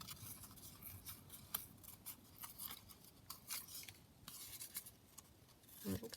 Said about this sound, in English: So I'll just tear around there.